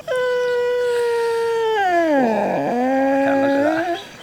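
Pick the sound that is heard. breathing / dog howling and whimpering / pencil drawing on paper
dog howling and whimpering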